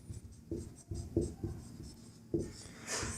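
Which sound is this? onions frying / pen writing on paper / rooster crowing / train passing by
pen writing on paper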